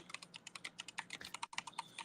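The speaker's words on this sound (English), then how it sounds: "Sorry, I'm typing to her right now." Rapid typing on a computer keyboard, a steady run of close, crisp key clicks with a brief pause near the middle.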